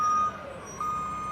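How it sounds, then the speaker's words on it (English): A reversing garbage truck sounds its backup alarm: two steady high electronic beeps separated by a short gap, over a low engine idle and street background. "hold on, I'm going to move away from the garbage truck"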